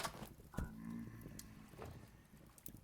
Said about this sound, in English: Believe there's a pig after me right now.